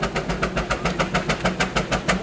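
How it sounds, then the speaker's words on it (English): A locomotive engine running at high power throbs with a fast, even pulsing beat, a steady mechanical rumble heard close and continuous. "This engine is running in a high power range right now"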